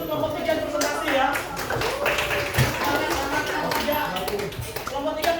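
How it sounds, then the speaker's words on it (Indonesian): Classroom applause for a group presentation: a steady patter of scattered hand claps from a small group of students, continuing for several seconds with voices talking over it. "kita beri aplaus dulu untuk kelompok 3 presentasi ya."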